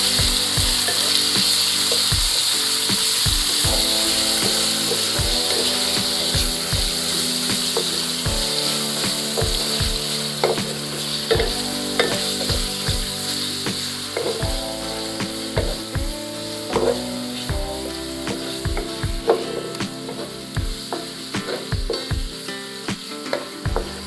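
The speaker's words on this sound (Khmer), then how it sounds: "ចាប់ផ្ដើមឆា" Seasoned beef stir-fries in a hot wok with a loud, constant sizzle, punctuated by frequent rhythmic clacks and scrapes of a spatula tossing the meat, close and without talk.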